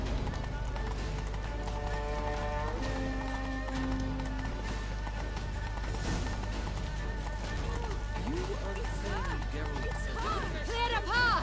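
Galloping horse hooves in The Witcher III: Wild Hunt, a steady clip-clop rhythm running throughout beneath a busy mix of voices and game music.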